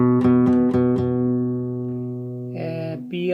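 An open E string rings out on a guitar during a Spanish-chords lesson, a few quick plucks at the start leading into a long sustained tone that decays, then two brief higher notes near the end.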